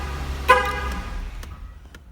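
A Jeep Wrangler answers a remote start triggered by three presses of the lock button: one short horn chirp rings out, then a quiet idling hum fades in the background.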